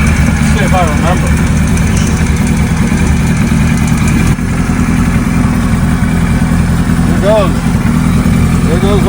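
A 1975 Kawasaki Z1 900 motorcycle engine runs loud and close with a steady rumbling idle throughout, and a voice speaks briefly over it.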